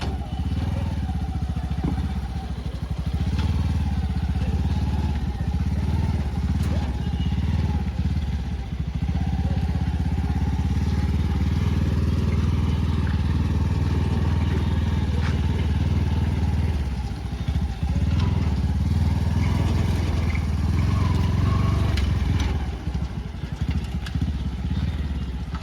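Farm vehicle engine running steadily as it pulls away in first gear, a loud low chugging drone with clattering mechanical noise, sustained throughout at close range.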